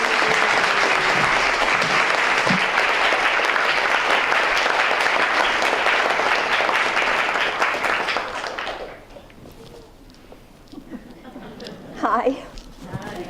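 An audience at the opening ceremony of the Newburyport Literary Festival applauds to welcome speakers Elaine Weiss and Linda Hirschman, with loud, dense, sustained clapping that fades out, followed by quieter room noise and a brief voice.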